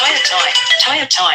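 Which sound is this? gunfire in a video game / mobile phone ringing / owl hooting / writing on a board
mobile phone ringing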